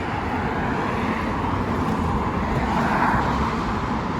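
A Fleet Mark truck rolls along a main road, its steady broadband roar holding loud and constant throughout amid traffic noise, with no clear rise or fall as it passes close by.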